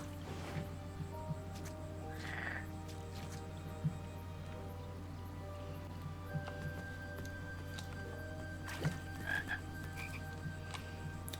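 Frogs croak repeatedly in a 2015 King's Quest game scene, quiet intermittent calls over a steady low background hum, with no talking.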